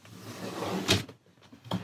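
A small drawer of baby bodysuits slides and shuts with a soft wooden knock, followed moments later by a second lighter bump, close by and quiet, with no speech.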